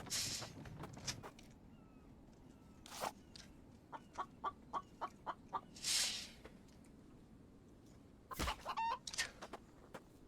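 A chicken in a survival video game clucks in a run of short, evenly spaced clucks, with sharper squawks and flapping bursts before and after, fairly quiet against steady background ambience.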